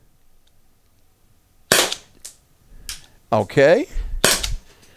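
A Byrna less-lethal launcher fires several sharp, snappy pops in an irregular sequence, each a close, crisp crack, after a quiet start, with a brief spoken word between shots.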